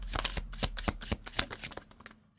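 Tarot cards shuffled and pulled for a three-card reading, a brisk run of crisp riffling flicks and slaps close by for a couple of seconds, easing off at the end, no voices.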